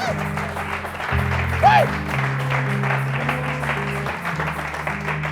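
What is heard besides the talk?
congregation applauding in church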